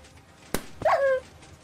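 A dog in a video game gives a short whimpering yelp right after a sharp impact sound, brief and fairly loud, over a low game background.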